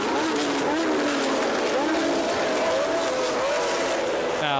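Formula 1 cars racing at the 1981 Argentine Grand Prix, with Ferrari and Brabham machines: a continuous high engine whine with rising and falling pitch sweeps as cars pass, heard beneath race commentary.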